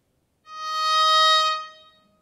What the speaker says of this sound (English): he takes the top string of the instrument and asks me to tune it down a half step to an E flat